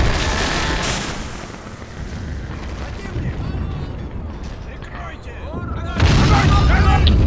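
Artillery fire and explosions ring out in a war video game set at Küstrin, with heavy booms and rolling blasts, loud and close, while someone talks over the battle.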